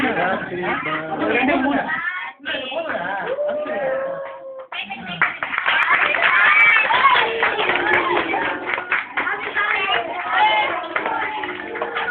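Hands clap at a home birthday cake-cutting with a crowd, scattered claps mixed into loud, continuous overlapping talk and cheering of many voices through most of the stretch.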